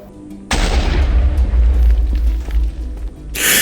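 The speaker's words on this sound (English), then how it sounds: "Place our TNT and blow it up." A TNT block detonates in Minecraft's Nether, blowing apart a small pocket of netherrack, blackstone and basalt with one loud, deep rumbling boom that rolls on for about three seconds, followed by a burst of hissing debris.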